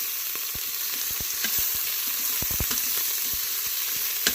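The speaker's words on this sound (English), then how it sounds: "We add our garlic towards the end of the sauteing because it burns easily." Finely chopped garlic sautés in a pressure air fryer, giving a steady loud sizzle with repeated light scrapes and taps of a stirring utensil, close and without talk.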